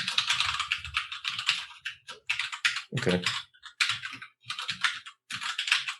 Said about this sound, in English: It's going to be a lot of mechanical keyboard in this episode.